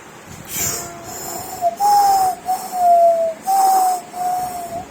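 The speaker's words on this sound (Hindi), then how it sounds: "ये सीटी बजा रही हो?" A series of sustained whistle tones, steady and fairly loud at close range, rising and falling slightly in pitch and broken into several blown phrases with short gaps between them.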